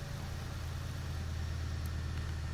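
A Chevy Impala engine idles steadily with a low, constant rumble and hum, close and unbroken, with no one speaking.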